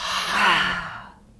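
A deep breath drawn in and released as a forceful, breathy "ha" exhale during a yoga breathing practice, loud and close, swelling then trailing off over about a second and a half.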